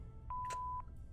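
Phone dialing in the point-and-click game The Blackwell Epiphany: a single steady tone held for about half a second, broken by a short burst of bright noise, with soft blips at the edges over a low background hum.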